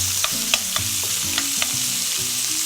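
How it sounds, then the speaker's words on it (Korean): Chopped steak meat sizzling in a very hot pan, a dense continuous frying hiss close by with several sharp crackling pops spread across it, no voices over the sound. "그래서 뭘 담그면 칙 소리가 날 정도 이 정도가 되면은 이렇게 넣어줍니다"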